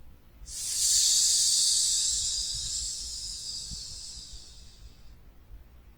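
A person exhales a long, sustained hiss imitating a snake during a desert qigong session, starting abruptly and fading over about four seconds, close and clear, with quiet breathing afterward and no speech.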